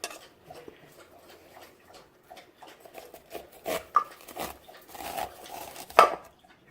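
A very sharp cleaver slices kernels off fresh corn cobs for pressure canning, making a run of soft, irregular scraping cuts and light taps against a cutting board, fairly close and quiet, with no talking.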